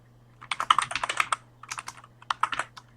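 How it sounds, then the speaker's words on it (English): Fingers tap quickly on a computer keyboard, two close bursts of rapid keystrokes separated by a short pause, crisp and alone over a faint steady hum. "So let me type it."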